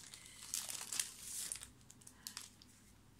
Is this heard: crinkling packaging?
yes